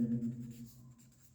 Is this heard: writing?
yes